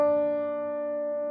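Single sustained pitched tone, the note mi in the key of B flat, held steadily and slowly fading, clean and alone with no voices.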